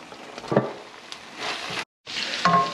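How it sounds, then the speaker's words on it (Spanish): Shredded chicken going into a sauce in a pan gives a soft sizzle and stir with a couple of brief clatters, fairly quiet and broken by a short silent gap. "vamos a echar nuestro pollo al recaudo"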